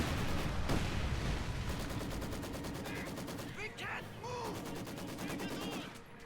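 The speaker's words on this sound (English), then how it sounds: "Got a Maxim firing away at trying to prevent the cap." A Maxim machine gun firing in Company of Heroes 2, rapid evenly spaced bursts of loud rattling shots that continue throughout, with game battle noise and a voice commentating over it.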